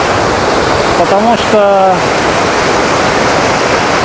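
Steady, roaring rush of the Alibek waterfall in the Dombay mountains, heard from close in front of the falls as a constant broadband wash, with someone speaking briefly over it.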